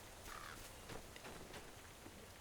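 Crows cawing in a fantasy video game, a few faint, scattered caws over a soft, rain-like background hiss.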